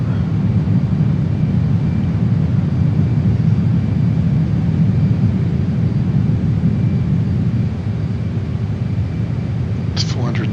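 A JAS-39 Gripen fighter jet flies low at about 470 knots and 500 feet over the coast near Kempsey, Australia, its engine a loud, steady, unbroken roar throughout.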